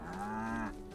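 A single long, low moo from a contented cow on a farm in the voxel game Staxel, close and clear, rising slightly and then fading out.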